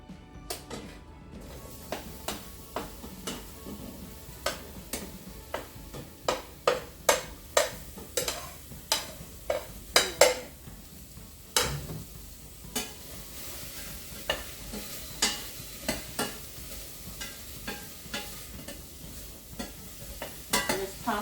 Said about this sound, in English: Tossing it around to make sure that we get everything evenly coated in there.